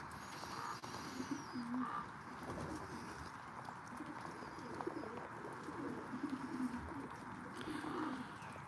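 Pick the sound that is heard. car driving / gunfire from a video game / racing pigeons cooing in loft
racing pigeons cooing in loft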